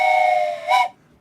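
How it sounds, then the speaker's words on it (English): A train whistle sound effect blares as a single sustained, bright multi-tone blast lasting about a second, loud and close, with a slight swell just before it cuts off into near silence. "Let's get that train whistle in there nice and early."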